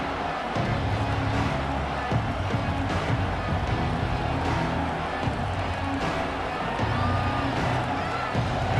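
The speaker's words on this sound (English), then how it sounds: "This crowd ready to make its presence known." A football stadium crowd roars in a dense, continuous wall of cheering and noise after the opening kickoff, with commentary voices speaking over it.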